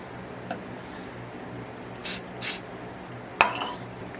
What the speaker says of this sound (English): this is an accelerant that causes it to set up instantly